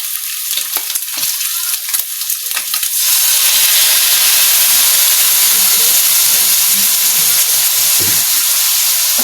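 Eggplant and pork adobo in a pan bursts into loud, steady sizzling and hissing as soy sauce is poured in, following lighter stirring clatter.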